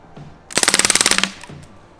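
A Crossman DPMS Panther Arms SBR BB rifle fires a fast full-auto burst of about fifteen rapid snaps in under a second, loud and near, then falls quiet.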